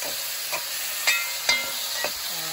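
Minced garlic is stirred into vegetables frying for Jamaican brown stew chicken. A steady hiss of sizzling carries on throughout, broken by several sharp scrapes and clicks of the spoon against the pan.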